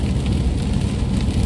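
A car driving on rural Ontario backroads through a freezing rain storm, heard from inside as a steady, loud wash of rain against the vehicle over a low road rumble, continuous with no talking.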